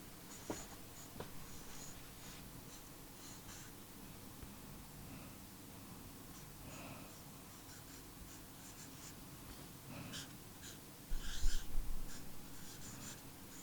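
Pen scratching across a sheet of paper in a quiet room, soft intermittent strokes with a few brief louder scribbles near the end, no talking.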